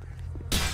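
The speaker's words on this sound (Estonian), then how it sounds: "Oota, ma hüppan peaga läbi klaasi." Glass shatters loudly and abruptly as a character dives headfirst through a window in a roleplay video game, a single sharp crash following a low rumbling background.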